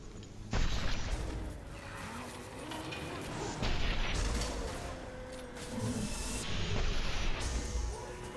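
Gunshots in the video game Mass Effect 2 punch through a dense, continuous wash of combat noise and booming effects, loud and sustained across the clip.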